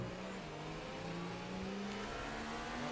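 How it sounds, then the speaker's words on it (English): Honda-powered Formula 1 car in the F1 2018 racing game at the Chinese circuit, its engine growling with rising and shifting pitch as it pushes through a sector, loud and continuous without voices. "the Honda engine growling as we head through the end of Sector 2"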